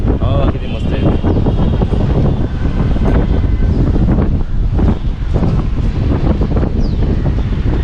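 Strong outdoor breeze buffets the microphone in a steady loud rush, with gusty roaring throughout and people talking under the wind noise.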